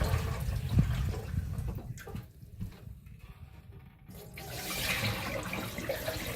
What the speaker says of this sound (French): Vous égouttez comme ceci.